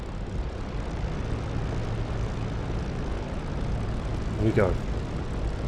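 A propeller-driven fixed-wing aircraft taxiing to park in the DCS World flight simulator, its engine a loud steady drone throughout, with a brief rising whine near the end and a voice speaking over it.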